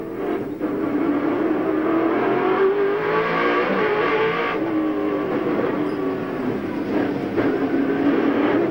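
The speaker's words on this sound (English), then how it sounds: "don't they sound great, these great Aussie V8s" Australian V8 touring cars, including a Holden Commodore, racing through the 1996 Wellington waterfront street circuit: a loud, continuous engine roar with shifting pitch as the cars accelerate and pass, steady from start to finish.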